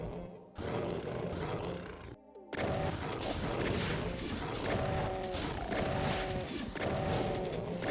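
A Spectre demon roars and growls in Ultimate Doom's Phobos Anomaly level, loud and harsh over dense, continuous game noise with blast-like bursts, broken by a brief near-silent gap.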